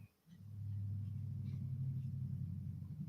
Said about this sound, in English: If his exhaust is loud enough to come through the mic inside the house